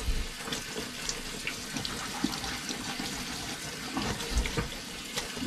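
Water runs continuously into a low kitchen sink, a steady close splashing rush broken by light clinks and knocks of items being handled, with no voices.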